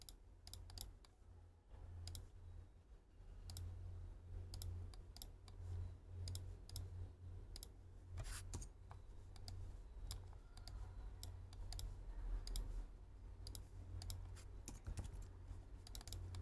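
Steady computer keyboard presses and mouse clicks while working in CATIA on a student formula car pushrod suspension design, with crisp irregular clicks spread over a constant low hum and no talk.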